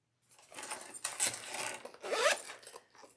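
A zipper on the back pocket of a handmade bag is drawn in a few quick, scratchy pulls, close and moderately quiet, with short pauses between strokes.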